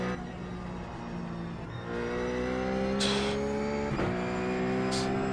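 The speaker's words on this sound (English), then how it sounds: "I'm throttle blipping because the last car I drove was the Ford" Ruf GT3 race car engine in iRacing at VIR, a steady loud harmonic drone with rising revs and sharp throttle blips with brief bursts near the middle and end, no talk.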